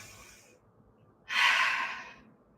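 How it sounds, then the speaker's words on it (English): A deep breath during a Pilates leg stretch: a faint breath in, a pause, then a strong audible breath out close to the microphone. "Big breath in and a full breath out"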